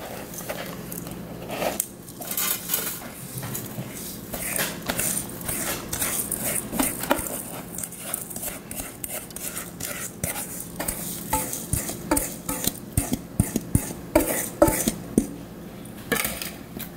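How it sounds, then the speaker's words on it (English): A measuring cup scrapes, taps and presses cheesecake crust crumbs into the bottom of a springform pan, with a steady run of close, soft crunches and clicks over a low background hum. "So I'm just using my measuring cup to spread it around in there."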